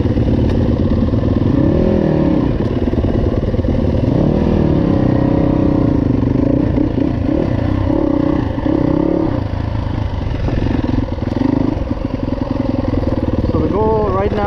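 A Yamaha YZ250F dirt bike engine revs on a warm-up ride, loud and close, its pitch climbing and falling through repeated throttle blips across the whole stretch.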